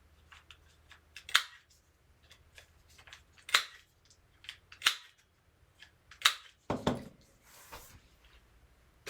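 Corners of journal paper being rounded with a punch, a series of crisp snapping clicks in irregular clusters, close and fairly quiet, with no voices.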